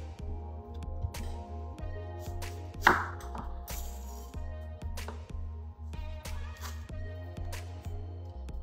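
A knife cuts peeled sweet potatoes into pieces on a board, giving scattered soft chops and thuds, fairly faint over a steady low background hum, with no talking.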